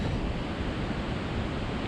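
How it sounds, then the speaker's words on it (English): Steady, dense rushing roar of water at the bottom of a waterfall on a bayou trail, loud and unbroken, with no voices. "This is at the bottom of the falls here."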